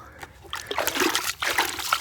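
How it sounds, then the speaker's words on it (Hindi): Water is poured slowly from a bucket onto plants in a garden bed, making a close, continuous splashing and trickling with uneven gurgles as it lands on soil. "पानी इसको आहिस्ता आहिस्ता लगाएंगे ताकि यहीं पे जज़ब वो आगे को बहे ना"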